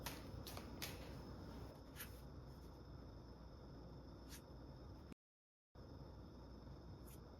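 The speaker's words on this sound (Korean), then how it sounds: "과거 카드 한번 좀 추가적으로 좀 여러분들은 뽑아볼게요" Tarot cards shuffled and drawn, giving soft papery flicks and snaps in an irregular rhythm with a brief silent gap. The sounds are close and quiet, with no talk.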